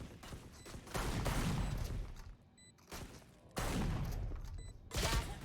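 Dense bursts of video game gunfire from a Sheriff revolver and a Shorty shotgun during a competitive Valorant-style match, with loud sustained volleys around second one and again from about three and a half seconds, plus brief lulls between them.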